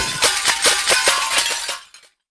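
A glass-smashing effect from Krotos sound-design software: a dense burst of shattering glass with rapid clinking fragments for about two seconds, loud and close, then cutting to silence.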